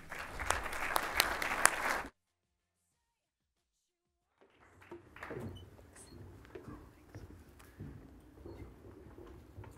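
An audience claps to welcome speakers to the stage at an SSAC14 conference talk. Full, dense applause lasts about two seconds and cuts off sharply, then low room noise and shuffling follow.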